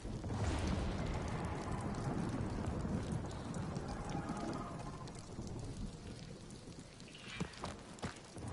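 Heavy rainstorm with rolling thunder in the Guardians of the Galaxy video game: a dense, loud roar of rain with deep rumbling that gradually eases, and a few sharp crackles near the end.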